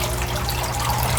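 Water pouring steadily out of a homemade shrimp pond filter, a loud continuous splashing and trickling rush close by.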